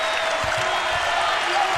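A basketball arena crowd roars and applauds after Arizona's home win over UConn, a broad, sustained wash of cheering with a commentator's voice over it.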